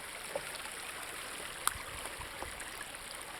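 A small stream flows and trickles steadily outdoors, a soft continuous wash of water with a couple of faint splashes.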